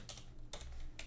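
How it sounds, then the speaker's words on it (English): Three quick bursts of typing on a computer keyboard running Kali Linux, crisp clicky keystrokes close up over a low hum, with short pauses between bursts. "we want to open up MSF console by typing MSF"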